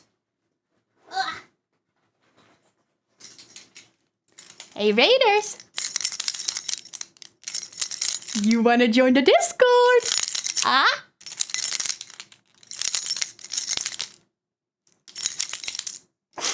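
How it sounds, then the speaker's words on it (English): A set of keys jingles and clinks in repeated metallic bursts, bright and close, between stretches of a young-sounding voice talking. "Hey Raiders, jingle jangle. Wait, I have my keys right here."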